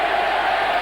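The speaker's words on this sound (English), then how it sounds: "Crowd are loving this." Steady, dense roar of a rugby league stadium crowd cheering at a St Helens versus London Broncos match, continuous and loud without breaks through the short moment.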